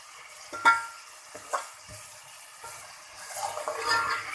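Spiced, salted and chilli-seasoned potatoes are gently stirred in a pan, with soft scraping strokes and a low sizzle that builds toward the end; no talking.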